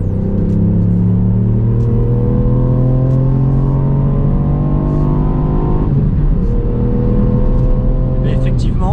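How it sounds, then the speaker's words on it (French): A Ford Puma in sport mode accelerates hard through the gears, engine tone climbing in pitch, dropping at a shift, then rising again, loud and close from inside the cabin. "Je vais passer en mode sport pour voir un petit peu ce que le Ford Puma a dans le ventre"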